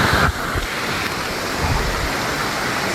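The steady roar of Dunn's River Falls in Jamaica, a dense continuous rush of falling water that is loud and close and fills the whole moment without a break.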